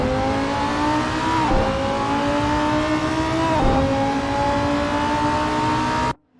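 A Lamborghini Huracan GT3 race car in a sim racing game at Spa leaves the pits, its engine whining loudly and climbing through two quick upshifts, then cutting off abruptly at the end.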